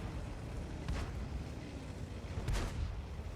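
Tank destroyer cannon fire in the World of Tanks game on the Siegfried Line map, two muffled booming shots about a second and a half apart over a steady low battlefield rumble.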